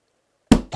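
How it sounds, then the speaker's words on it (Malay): Two firm knocks land on a bathroom door after near silence, loud and close, with a brief gap between them. "Pintu bilik air diketuk."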